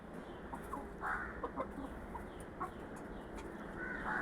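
Chickens and a rooster cluck on a farm where birds are fed banana stem, with soft scattered clucks and short calls over a steady low background and no talk.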